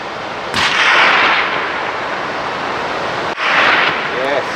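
A rifle fires during a tahr hunt in the New Zealand mountains: a sharp, loud report rings out, then a second booming burst follows a few seconds later, with wind noise and voices throughout.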